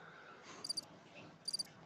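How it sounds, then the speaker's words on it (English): A cricket chirping sound effect played from a soundboard, two short bursts of rapid high chirps separated by a pause, quiet and alone over faint background hiss. "Is that a cricket sound?"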